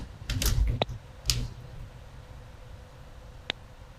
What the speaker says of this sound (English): I was typing